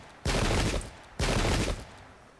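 Two massed musket volleys in the video game Pike and Shot, each a loud sustained crackling roar lasting about half a second, with a third beginning at the end.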